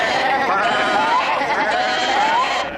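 A flock of sheep bleats continuously, several wavering cries overlapping close by in a steady chorus.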